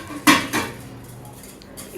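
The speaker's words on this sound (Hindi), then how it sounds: "अभी बर्तन धोने हैं और किचन की सफाई करनी है" Dishes, pots and cutlery clink in a home kitchen, with two quick, close knocks of metal and crockery followed by quieter rattling and faint background noise.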